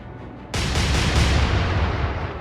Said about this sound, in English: The Berwick returned fire